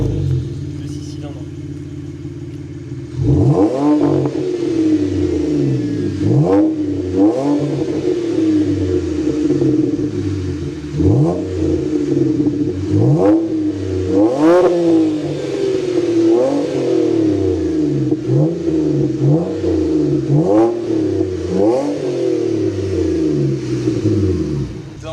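Audi A5 3.0 TDI six-cylinder diesel engine rumbling while driving on a dry road, repeated rises and falls in revs as gears change, steady and close, with people talking over it.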